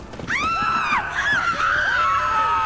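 People in The Witcher 3 video game scream in sharp, rising and falling shrieks, several overlapping cries carrying on for over two seconds, loud and close.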